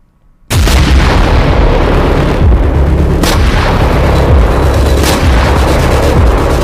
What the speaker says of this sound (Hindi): एक तरफ गाजा की सड़कें नेतन्याहू के धमाके से दहल रही हैं